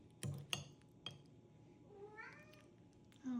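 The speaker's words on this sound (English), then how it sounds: "I was recording the cat, actually." A pet cat meows in a home kitchen while rib of beef is being cooked, one drawn-out, rising-and-falling call heard at moderate distance after a few sharp clinks and knocks of kitchenware.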